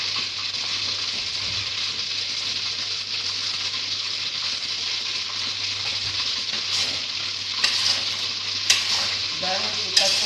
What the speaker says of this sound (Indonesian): saya aduk supaya bawahnya tidak hangus, dan saya akan memasukkan daun jeruk yang utuh